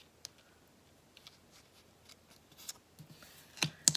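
Scissors snip through paper scraps in a quiet room, a series of short, crisp cuts coming irregularly and growing louder and denser toward the end.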